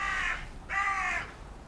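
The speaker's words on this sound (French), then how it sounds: "moi je pense que le corbeau est d'accord" Two loud, harsh caws from a crow, close by and clearly separated by a brief gap, heard in an outdoor barbecue setting.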